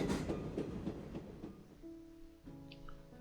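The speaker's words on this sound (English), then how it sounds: "our armored train took quite a bit of damage as well." Armored train rolling along in the World War I strategy game Commander: The Great War, a low rumbling rail clatter with a steady tonal hum joining partway through, heard alone without talk.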